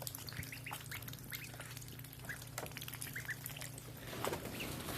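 Backyard ducks quack softly and intermittently at a distance over a steady low hum, with scattered rustling.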